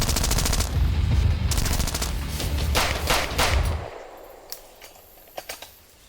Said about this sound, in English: Oh, I think they're using airsofts.